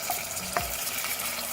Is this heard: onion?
yes